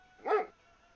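A dog in the video game ArmA 3 lets out a single short, close bark against a quiet background.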